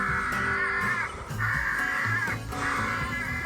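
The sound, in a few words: crow call device imitating crow caws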